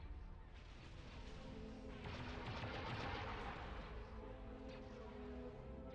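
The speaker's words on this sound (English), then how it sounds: "Who's firing ions?" Ion cannon fire in a Star Wars Empire at War space battle, a dense barrage of rapid blasts and booms rolling together, faint and distant, swelling in the middle before easing off.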